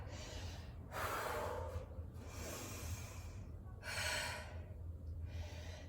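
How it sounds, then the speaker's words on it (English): Heavy breathing while resting after a hard workout, with long audible inhales and exhales repeating slowly and close to the mic, without talk. "Try to normalize my breathing a little bit."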